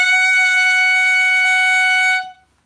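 A clarinet mouthpiece and barrel together sound a single sustained F sharp, a bright, reedy, steady tone held loud and close for about two seconds before cutting off.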